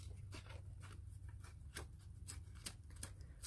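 Paper torn by hand for a vintage Christmas collage, a run of short dry rips and crinkles repeating at an uneven pace, close and fairly quiet over a low steady hum.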